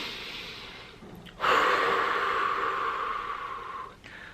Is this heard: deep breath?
yes